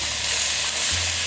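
Burgers sizzle steadily in a hot pan with a constant bright hiss, and a low hum swells near the end as one patty is flipped over.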